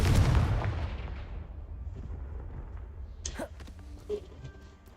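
A Confringo blasting spell in Hogwarts Legacy blows apart a pile of debris blocking a stairwell. A loud boom opens the moment and decays into a low rumble, followed by scattered faint clatters.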